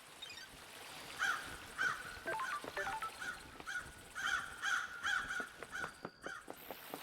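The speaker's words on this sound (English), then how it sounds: "A lot of birds here." Crows cawing in the video game Paradise Killer, a series of harsh, repeated caws in irregular bursts over a faint trickling ambience, fairly close and clear.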